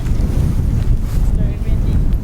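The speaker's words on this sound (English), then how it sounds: "very windy." Strong wind buffets across an open pasture on flat land, a loud continuous low rumble roaring against the microphone with gusts rising and falling.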